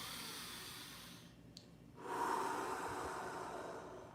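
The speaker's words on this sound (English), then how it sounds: "deep breathing, I would do about maybe 12 to 20 of those kinds of breaths that I just did" A deep breathing demonstration: a long slow exhale fades to near silence, then a steady, breathy inhale swells in close to the microphone.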